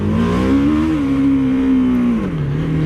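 A BMW G 310 R single-cylinder motorcycle engine revving up close, a loud steady tone that rises slightly, holds, then drops as the throttle eases, with no talk.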